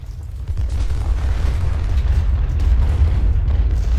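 Cannon and rifle fire in Ultimate General: Civil War, a dense, continuous rumble of booming artillery and crackling volleys, heavy and low, with no voices over it.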